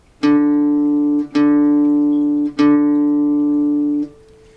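Three plucks of an open D string on a guitar, each ringing steadily for about a second and sustaining loudly up close before the next, with nothing else heard.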